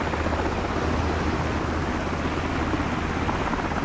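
An MH60 Blackhawk helicopter flies in a PS5 flight game, its rotor and engine making a dense, unbroken roar with a low rhythmic thrum underneath, loud and steady throughout, without voices.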